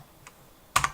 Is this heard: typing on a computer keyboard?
yes